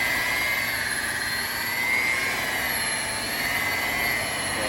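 Electric buffer whirring at high speed while polishing oxidized boat gelcoat, a steady loud whine with strong tonal bands, continuous and close with no talking.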